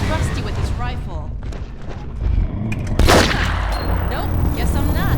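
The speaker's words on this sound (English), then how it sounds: "Let me shoot out the latch." A rifle fires at a latch in the video game The Freeman, sharp loud gunshots cracking through busy game noise and talk, the strongest blast landing midway.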